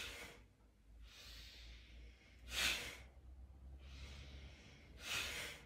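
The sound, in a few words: forceful Bhastrika breathing exercise, inhaling and exhaling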